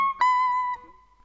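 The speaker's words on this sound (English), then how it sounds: "full step bends by the way, so full step bends on the E string" A single electric guitar note on the high E string rings out, bends up a full step and settles back, clear and close with no talking, as in a lesson on a guitar solo.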